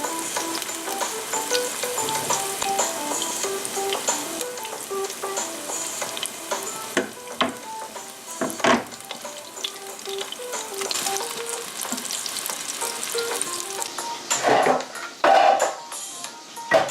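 Spicy chicken kebab patties fry in olive oil in a saucepan, giving a steady, close sizzle and crackle throughout, with a few louder pops and spatters near the end.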